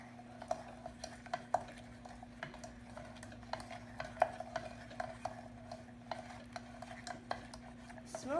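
A spoon scrapes and clinks against a mixing bowl while brownie batter is stirred, producing soft irregular taps and clicks over a low steady hum, quiet and close, with no talking.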